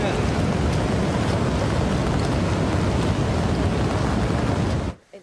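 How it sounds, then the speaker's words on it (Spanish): Floodwater of a rising river near Kerr County, Texas, rushing toward the listener, a dense, loud, steady roar like heavy surf with constant turbulence that cuts off abruptly at the end. "La secuencia continúa con el sonido cada vez más fuerte del caudal acercándose hacia ellos"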